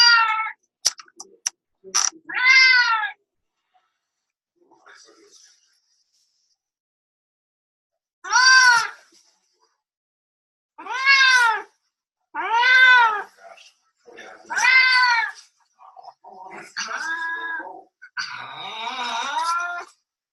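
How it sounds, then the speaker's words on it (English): A male shelter cat named Mr. Business meowing loudly and close, about eight drawn-out, insistent calls spaced irregularly with short gaps, some rising into wailing complaints, with no other sound between them. "This is a shelter cat."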